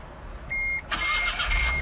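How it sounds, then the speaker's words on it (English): A small blue and white smart car rental starts up: a short electronic chime, then the engine turns over and settles into a quiet idle, with no talking. "start the car"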